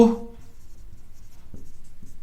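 Marker or chalk scratching across a board in short strokes during an accounting lesson, with quiet faint pulses between strokes and no talk over it.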